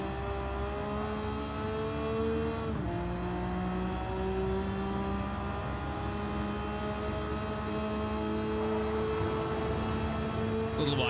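Race car engine with stock turbocharger in Gran Turismo 7, a steady droning whine that rises in pitch, dips sharply at a gear change and climbs again, heard continuously and fairly close.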